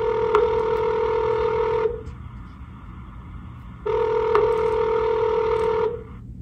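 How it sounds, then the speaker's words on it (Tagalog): Two long electronic tones from a phone system prompt for dialing an extension, each lasting about two seconds with a pause between, clear and steady over a faint background hum. "Or dial their extension now and press the pound key."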